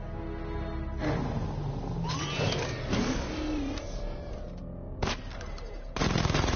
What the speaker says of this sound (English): The chain gun's not powerful enough.